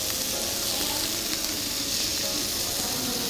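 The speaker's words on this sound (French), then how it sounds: "ça pète un peu, c'est normal, c'est le fromage" Beef-and-cheese yakitori skewers frying in olive oil in a pan give a loud, continuous sizzle with fine crackle and popping from the cheese, close and unbroken.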